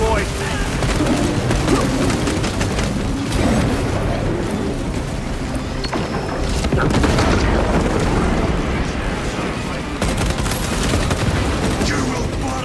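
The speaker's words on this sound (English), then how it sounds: "Melter bomb deployed." Loud battlefield combat from Warhammer 40K Space Marine 2 includes a melter bomb blast among heavy gunfire and booming impacts, a continuous, dense roar with shouting voices.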